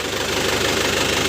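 A warm 2011 Isuzu Panther Grand Touring diesel engine idles close by with a loud, steady, rattly chugging hum and no other sounds, cutting off sharply at the end.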